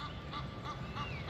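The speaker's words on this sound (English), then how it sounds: "Look, there's a duck right there." Several short honking duck calls repeat in an even rhythm beside a lake, faint and a little distant over a soft outdoor background, with no talk.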